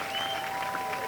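Applause from a baseball crowd at City Park Field in Pittsburg after a double off the left field wall on opening day, a steady, moderately loud wash of clapping that lasts about a second, with tones faintly ringing through it.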